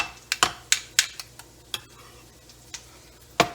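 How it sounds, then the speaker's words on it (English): A knife blade scrapes and taps against the inside of a small jar, sharp clinking strokes in an uneven series, close and clear, with quieter scrapes between the louder clinks. "we'll scrape that off with the back of the knife"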